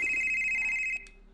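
A telephone rings in the horror video game Weeping Doll, one steady electronic ring that cuts off abruptly, followed by a brief faint tail.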